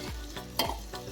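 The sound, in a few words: stirring tindora and chillies in a pan with a spoon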